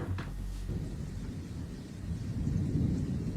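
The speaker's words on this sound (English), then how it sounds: "there's a thunderstorm approaching, and at a certain moment, a lightning strikes nearby" A thunderstorm rumbles close by after lightning strikes nearby, with a sharp crack at the start and then a low, rolling roar that swells again toward the end, over faint rain.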